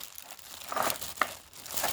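Plastic bag being pulled off a cardboard piggy bank, giving close, uneven bursts of crinkling and crackling with a sharp rustle in the middle and no voices.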